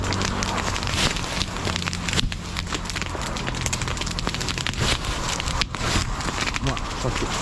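Forest fire burning at night with continuous loud crackling and hissing, sharp snaps scattered throughout, dense and close.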